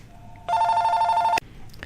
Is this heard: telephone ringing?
yes